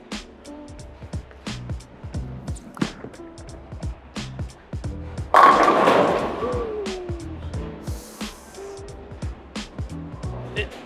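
A bowling ball thrown at reduced speed rolls down the lane and crashes into the pins with a loud central impact and scattering clatter, amid background alley noise and scattered thumps.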